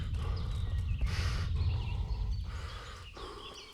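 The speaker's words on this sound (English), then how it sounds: "Call our faithful steed Pebbles. She is a good horse." Horse hooves clopping in the video game Kingdom Come: Deliverance, with a whinny from the mare Pebbles rising over the steady, close clip-clop of the footsteps.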